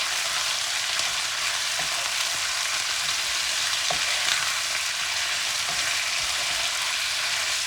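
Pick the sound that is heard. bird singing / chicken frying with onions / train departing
chicken frying with onions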